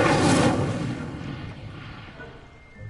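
A fire spell cast in Hogwarts Legacy, a loud whooshing burst of flame that swells at the start and then trails off into a fading roar.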